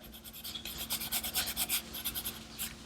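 Colored pencil rubbed back and forth over paper, a close, soft, scratchy rasp in quick rhythmic strokes that keep going throughout with no talking.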